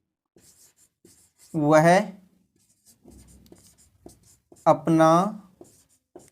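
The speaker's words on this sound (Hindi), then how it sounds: "तो दोस्तों मैं आपके सामने पहला सेंटेंस लिखता हूं" A sentence is written on a board in short, faint scratching strokes that fall in the pauses between a man's Hindi speech, which is much louder than the writing.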